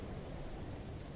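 A rainstorm rages in No Man's Sky amid caustic winds, a steady dense wash of rain and low rumbling thunder that stays even and unbroken throughout, with no voices.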